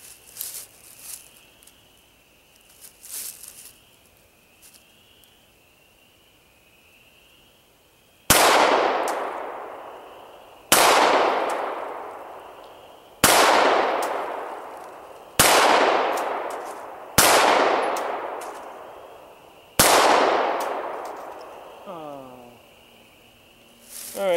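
Six loud S&W Sigma 9VE 9mm pistol shots at an outdoor range, spaced about two seconds apart, each with a sharp crack and a ringing decay. Quieter clicks and handling sounds come before the first shot.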